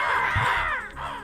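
Several crows caw in a video game, a dense overlapping chorus of harsh calls running continuously at moderate loudness throughout.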